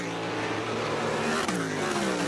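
An Indy Lights race car passes at Watkins Glen International in 2008: a loud, continuous engine roar that swells and falls in pitch as the car goes by, with no talking.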